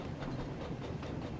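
A goods train in the Thomas & Friends: Wonders of Sodor video game runs along the rails, giving a steady low rumble with regular clickety-clack pulses repeating roughly every quarter second.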